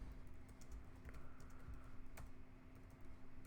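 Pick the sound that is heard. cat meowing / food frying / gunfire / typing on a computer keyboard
typing on a computer keyboard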